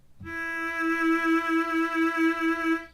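A single violin note, bowed on the open D string, rings out clear and sustained with a gentle pulsing, heard alone.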